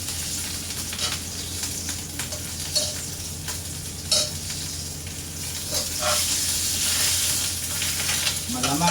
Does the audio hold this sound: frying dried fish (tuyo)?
yes